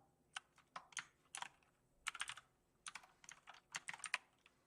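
Keys tapped on a computer keyboard during coding at an AI hackathon, in quick irregular bursts of crisp clicks separated by short pauses, close and fairly quiet with no voices.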